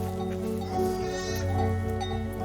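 Ewes bleat in a mountain pasture, several overlapping calls close by, steady and fairly loud throughout.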